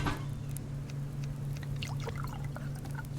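Water pours to fill a container in a survival video game, a soft trickling and splashing over a steady low background hum, fairly faint and continuous, with no voices.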